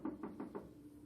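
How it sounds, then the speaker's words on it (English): Four quick, evenly spaced knocks on a door, soft and close, followed by a brief fading resonance. "Knocked on the door."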